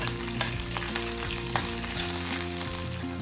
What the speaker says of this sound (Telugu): ఇవన్నీ వేసి వేయించుకోవాలి.